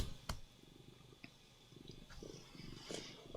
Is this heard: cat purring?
yes